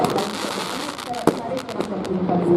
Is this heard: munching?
no